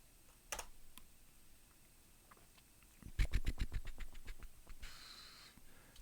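Quick keystrokes on a computer keyboard, a few scattered taps followed by a fast run of clicks, close and moderately loud with no talking.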